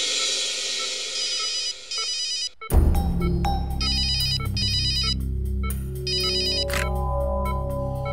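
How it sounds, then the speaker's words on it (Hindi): An electronic phone ringtone chirps in repeated bursts, loud and close, alone without talk, in a Hindi TV crime drama scene. "डॉक्टर तारिका को फोन कर देता हूँ।"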